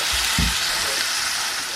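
Onion, ginger and garlic hit a hot pan and fry with a loud, steady sizzle, close by, with a couple of soft bumps as the ingredients go in and no talking.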